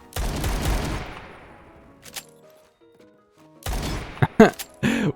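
Gunfire in the online shooter Phantom Forces, a loud burst of rapid shots with a trailing echo, then quiet, followed by another cluster of sharp shots and thuds near the end.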